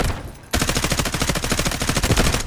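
A suppressed M4A1 rifle with a laser sight in the shooter game Delta Force fires a sustained rapid automatic burst after a brief lull, each muffled shot close and evenly spaced.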